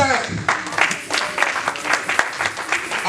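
A church congregation bursts into applause acclaiming the King of Heaven, clapping rising in waves that stay loud and mixed with cheers and voices throughout.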